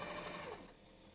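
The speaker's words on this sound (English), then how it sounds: "I don't like talking when the sewing machine's going" Sewing machine stitching a belt runs steadily and loudly for about the first half, then winds down, leaving a quieter hum.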